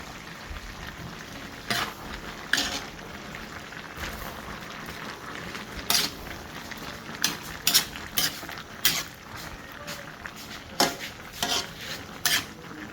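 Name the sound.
stirring food in a pan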